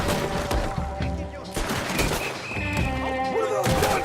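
Gunfire in Red Dead Redemption 2, with bursts of shots and impacts over a western game soundscape and a musical score, steady and fairly loud throughout.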